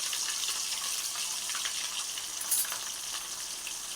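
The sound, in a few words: small dried fish (mettalu) frying in hot oil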